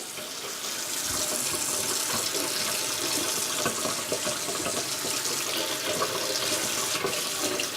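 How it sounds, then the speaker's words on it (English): Hot and cold taps run steadily into a kitchen sink, a continuous close rushing stream of water with no talking. "operate the hot and cold water"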